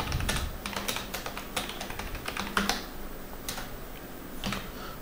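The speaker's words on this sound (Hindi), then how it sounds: "तो जैसे मैं यहाँ पर टाइपिंग कर रहा हूँ" Rapid, even clatter of keys on a computer keyboard while typing a document in MS Word, close and continuous, with a few louder individual strokes.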